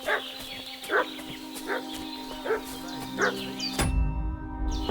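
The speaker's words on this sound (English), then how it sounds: "What's that dog making such a fuss about?" A dog in Kingdom Come Deliverance 2 barks repeatedly at a medium distance, spaced woofs over a droning in-game background that cuts off abruptly near the end.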